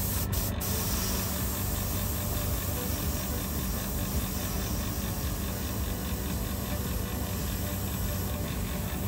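Aerosol spray paint, flat gull gray, hisses in one long steady burst from a can, broad and continuous for several seconds, opening with a couple of short clicks.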